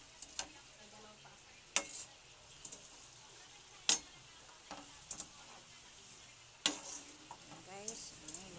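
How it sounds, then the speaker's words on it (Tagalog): Sweet potato slices frying in a pan and being stirred, with a faint steady sizzle under sharp scraping clicks of the utensil against the pan at irregular intervals. "Cooking sweet potato"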